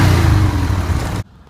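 A Buell motorcycle engine runs steadily while warming up, a loud close throbbing drone that cuts off abruptly near the end.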